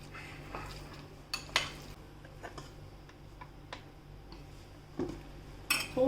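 Potatoes and spinach with salt being mixed in a bowl for a vegetarian baked dish, heard as light, scattered clinks and taps of a utensil against the bowl, with a few sharper knocks.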